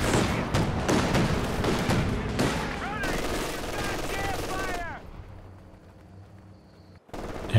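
Anti-tank gun shots in a Company of Heroes 2 match, sharp cracks over dense overlapping gunfire and battle noise, with a commentator talking throughout before the din drops away.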